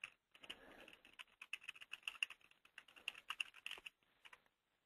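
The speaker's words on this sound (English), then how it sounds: "I hit enter on my keyboard there" A computer keyboard clatters under quick, irregular typing, keystrokes close and crisp in bursts, ending with a firmer key press before silence.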